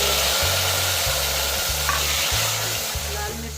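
Tomatoes hit onions already frying in a pot and set off a loud, dense, close sizzle that holds steady, with a low periodic hum running underneath.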